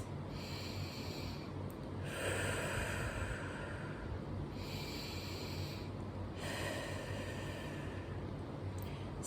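Quick, sharp breaths repeated in short bursts, up close in a dance class setting, a run of rapid snorting inhales and exhales with brief gaps between clusters.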